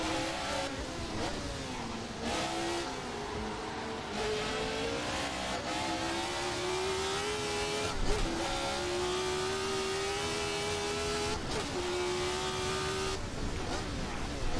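1970s Formula One cars race in a sim racing game, engines screaming and shifting through gears in a continuous loud whine with pitch climbing and dropping, and occasional thumps and tire noise.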